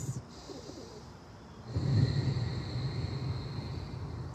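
Slow deep breathing during an outdoor yoga session on a field, long soft inhales and exhales with a fuller, louder breath partway through, close and quiet against a faint outdoor background.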